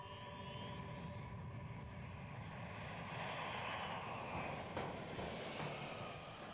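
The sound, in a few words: aircraft landing at an air base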